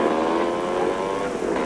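A propeller aircraft engine roars at full power for takeoff, a loud, steady drone with a constant high whine and no breaks.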